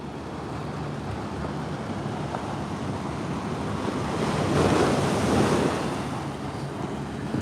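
Ocean waves breaking at Swamis Beach roar as a steady, loud wash of surf with wind buffeting the microphone, swelling to a heavier crash midway before easing back, with no voices.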